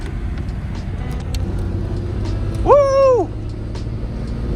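Ford Deluxe Sedan barn-find car with stick shift driving along a road, steady engine rumble close by, with a brief excited vocal whoop partway through.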